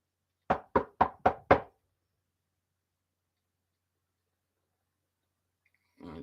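Five quick, evenly spaced knocks on a door, close and distinct, followed by silence and a brief faint sound at the end.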